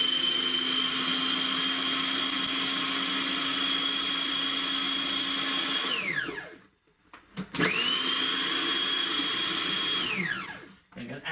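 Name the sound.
blender blending cheesecake base mixture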